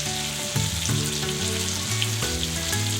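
Chunks of lean zebra steak sear in a hot pan with a steady, close sizzle and occasional stirring clatter, no voices over the frying.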